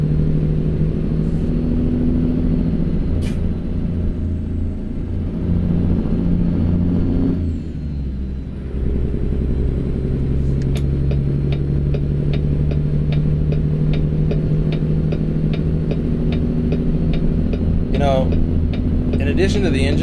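Heavy truck engine braking on a steep downhill descent into Grangeville in American Truck Simulator, a steady deep low drone with faint rhythmic clicking over it, running throughout, with a brief dip midway.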